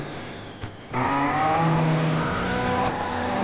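Racing cars in an Xbox Series X video game trailer roar at full throttle with rising engine whine and a brief tire squeal, loud and continuous after a short quieter opening.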